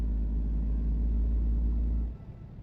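A truck engine in American Truck Simulator rumbles loudly with a deep, steady low drone that suddenly cuts away near the end, leaving a quieter fading rumble.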